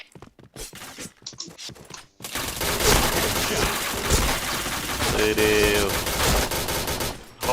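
Sustained automatic gunfire in the shooter game Point Blank erupts after a few scattered shots, loud and continuous for several seconds, with a brief voiced exclamation early on.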